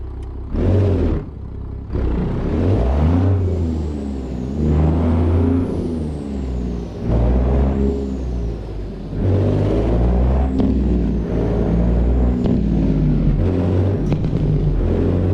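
A Kenworth W900A truck engine in American Truck Simulator, hauling frozen fruit, rumbles and revs steadily with rising and falling whine as it accelerates, plus an air-brake hiss, with no talking.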